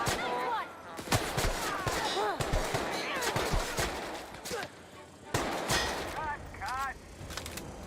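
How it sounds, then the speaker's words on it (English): Gunfire in the video game The Outer Worlds: sharp rapid bursts of shots ringing out repeatedly over several seconds, mixed with game effects and brief character voices. "She's really shooting!"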